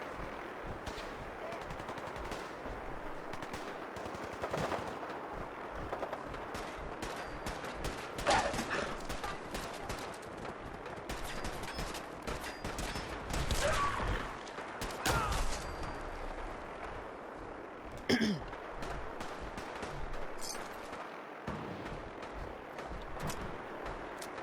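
A Fallout 4 battle raging with dense, continuous automatic gunfire and scattered heavier blasts, rapid bursts overlapping for over twenty seconds at steady loudness, with no one talking.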